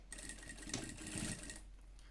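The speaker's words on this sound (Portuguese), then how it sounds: "tiver uma máquina com corte de linha automático" A sewing machine with an automatic thread cutter, stitching in a workshop: steady, fairly close mechanical whirring that runs continuously for most of the moment, then eases off near the end, with no voices.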